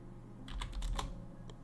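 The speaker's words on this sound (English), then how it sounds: "I'm typing it now." A short burst of keystrokes on a computer keyboard, a handful of quick clicks close by and at low level, followed by a single lighter tap.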